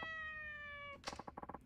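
A cat in the video game Yakuza 4 Remastered gives one drawn-out, tonal meow, followed by a short run of choppy, chirping cat noises, fairly quiet.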